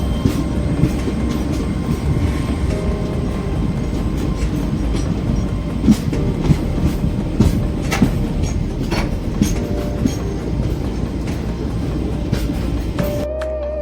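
Indian Railways train in motion, a loud continuous rumble with rhythmic wheel clatter and occasional clicks over rail joints, steady throughout with no talking.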